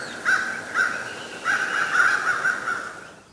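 A crow calls several times, some caws short and others drawn out and rasping, at moderate loudness over a faint hiss, with no voices.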